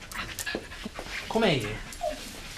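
A big dog named Richard pants and gives a short whimper close by, the breathy panting bursts and a brief whine sitting under and between spoken voices.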